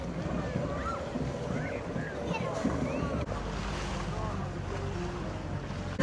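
A boat motors on the sea off a Sicilian beach during a religious procession, its engine hum blending with wind buffeting and splashing waves, while people's voices sound over it.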